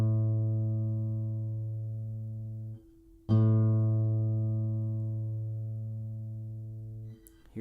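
Guitar open A string plucked twice for tuning: each note rings clear and sustained, slowly fading for about three seconds, alone and with no talk.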